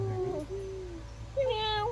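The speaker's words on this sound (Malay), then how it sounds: "Leopard cat, kucing batu." A leopard cat at a zoo gives a couple of drawn-out, wavering meows close by, with a short pause between them over a low steady background hum.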